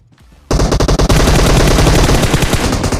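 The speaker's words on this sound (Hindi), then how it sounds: "फायरिंग के साउंड आ भी रहे थे" Sustained automatic gunfire in the PUBG Mobile battle royale, a brief muffled lead-in followed by loud, dense rapid bursts that continue without pause, overlapping shots crackling near and close together.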